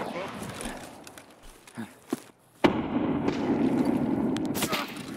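Grenade explosion in the video game Escape From Tarkov, a loud sudden boom after scattered clicks and shots, followed by a sustained rumbling wash of noise, with players talking over it.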